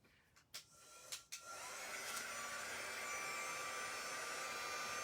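A couple of sharp clicks are followed by a dryer starting up and blowing a steady, close whoosh to dry a Chalk Couture ink transfer, with no voices.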